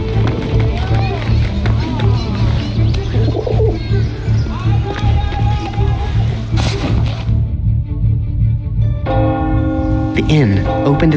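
A bird coos softly and repeatedly in the video game 11-11: Memories Retold, amid ambient game sounds and voices talking.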